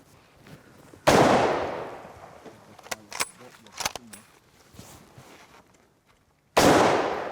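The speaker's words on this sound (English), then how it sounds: "I'm going to shoot the full jug on the right side, the one on the left." Two loud, sharp rifle cracks from an 03A3 Springfield .30-06 fired at a full jug outdoors, each followed by a long decaying echo, with metallic clicks and handling noises from the bolt in between.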